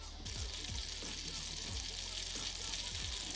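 Butter sizzling and crackling in a hot frying pan while cooking hash browns, a steady bright hiss with light pops and occasional soft thumps throughout.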